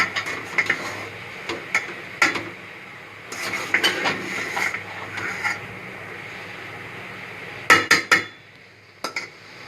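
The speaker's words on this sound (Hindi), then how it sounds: "अब हम इनको चावलों के साथ मिक्स करेंगे।" Fried rice being stirred together with masala in a pan, with a spoon scraping and clinking against the metal in irregular bursts of sharp taps, separated by quieter gaps, close and clear with no talk.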